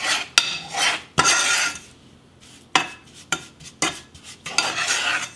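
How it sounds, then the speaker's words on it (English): A utensil stirs and scrapes brown sugar into melting butter in a pan, with repeated sharp clinks against the metal and rough scraping strokes between them, close up and without talk. "the butter is beginning to melt. Working that brown sugar into it."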